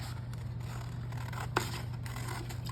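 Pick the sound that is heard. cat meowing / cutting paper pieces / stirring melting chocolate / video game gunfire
cutting paper pieces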